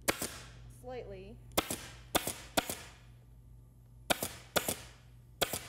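Sharp, loud staple-gun shots fastening upholstery fabric to a wooden window cornice, fired singly and in quick pairs, with a brief murmur of voice between the early shots.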